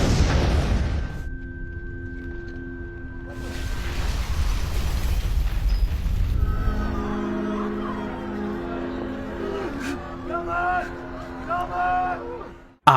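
A bomb vest detonates in a film scene: a heavy, rumbling boom opens loud and rolls off, followed by lingering debris noise, tonal ringing and a dramatic music score with scattered voices.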